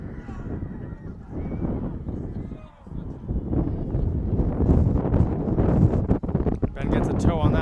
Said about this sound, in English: A lot of wind here.